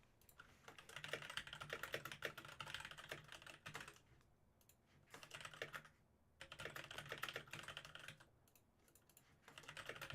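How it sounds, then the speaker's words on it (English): Steady bursts of clicky typing on a computer keyboard, close and clear, broken by a few short pauses, with no voices. "I have to type a lot here"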